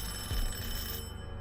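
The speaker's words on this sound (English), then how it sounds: "The silence of my flat was disturbed by the ringing of the doorbell." A doorbell rings inside a flat in the visual novel Everlasting Summer, a bright bell-like tone sounding steadily over a low hum through most of the moment before trailing off.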